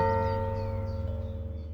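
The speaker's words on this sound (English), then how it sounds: "And the bell rang once" A single bell tone rings out with a sustained, steady hum of overtones that slowly decays across the short stretch, heard alone without any talk.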